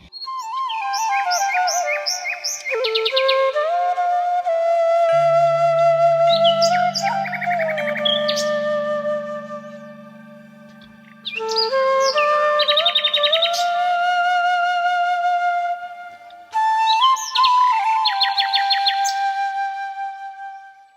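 Migratory birds chirp and call at Asan Barrage in a steady run of bright, tonal phrases with short pauses between bursts, backed by a low, even hum.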